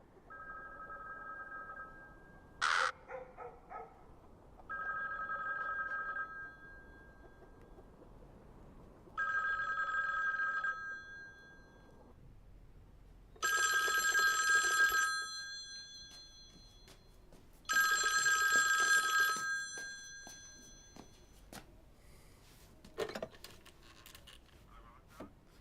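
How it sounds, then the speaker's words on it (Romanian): An old-style telephone bell rings in repeated bursts, about five rings with pauses between, clear and fairly close, with a couple of faint clicks and no talking. "Odată poate să înceapă cu un telefon."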